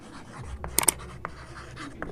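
Chalk or marker strokes on a classroom board during an English grammar lesson, a few short scratchy bursts with quiet pauses between, close and fairly soft.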